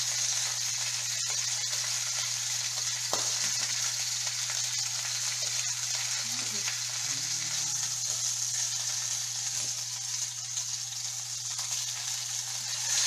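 Lamb sears in a pan with a steady, bright sizzle and hiss throughout, close up and alone, over a low background hum.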